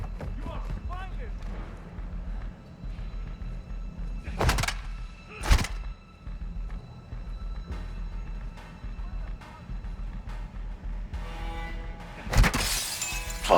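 Glass shattering in the Call of Duty Modern Warfare II campaign, with two sharp loud breaks early on and a third burst near the end over steady game ambience and low rumble, with voices talking in the background.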